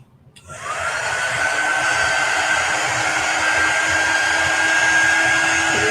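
A heat tool blasts a steady, loud whooshing roar with a thin whine on top while drying a Chalk Couture ink transfer. It starts abruptly and holds unbroken to the end.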